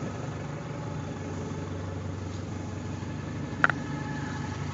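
An old BushHog Batwing mower idles steadily with a worn, noisy gearbox, a low continuous mechanical drone with one brief sharp click partway through.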